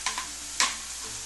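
Vegetables seasoned with salt and pepper fry in a pan for deep dish pizza, a steady soft sizzle broken by three short scraping stirs near the start and middle, close by and with no talking.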